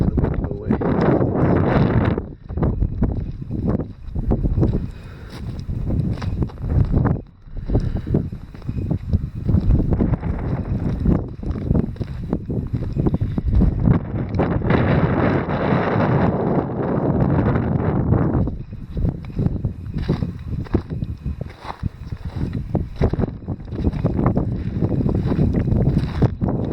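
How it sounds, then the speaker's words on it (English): Wind gusting across a ledge at a small mine in the Death Valley wilderness buffets the microphone with a loud, continuous rumble that swells and drops in long surges. "wait for the wind to go away"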